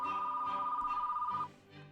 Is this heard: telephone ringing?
yes